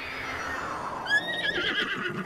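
A horse in a Legend of Zelda video game whinnies, a high descending neigh followed by fluttering snorts, clear and fairly close over a soft background.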